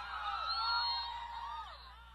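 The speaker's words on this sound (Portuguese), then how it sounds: "O gritinho das mulheres apaixonadas." High, excited shrieks from a crowd of women screaming with love, used as a sound effect in a live baile funk set in Niterói, several overlapping voices rising and sliding in a sustained squeal that fades slightly at the end.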